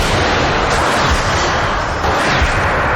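A melon-sized ball of ice fired at speed through a roof to simulate a giant hailstone falling from 2,000 feet, heard as a loud, dense burst of impact noise that fills the whole moment without pause and with no talk.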